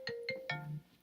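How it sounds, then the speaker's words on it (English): A mobile phone ringtone plays a short melodic electronic pattern, three quick bright tones and then a lower held note, faint and brief. "sorry about that, that's my phone."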